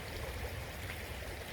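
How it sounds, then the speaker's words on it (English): A river flows with a continuous soft rush and babble of water, steady and fairly faint, with fish splashing somewhere in it. "I actually just came and sat by the river here."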